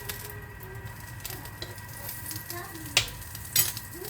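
Croque madame sandwiches grill in a pan with a steady, soft sizzle, broken by a few sharp clinks and scrapes of a utensil near the end.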